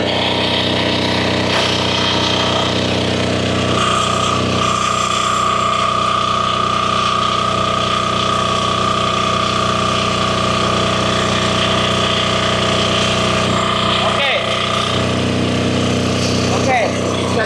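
A Firman FDW300C inverter welding generator runs steadily at maximum amperage, a continuous droning engine hum with a whining tonal note, loud and unbroken throughout.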